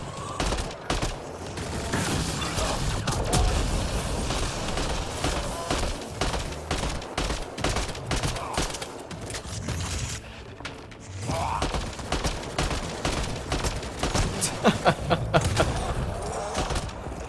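Rapid gunfire rattles through a firefight in the video game Mass Effect: Andromeda, dense bursts and thuds running nearly the whole time with a short lull midway, loud and close.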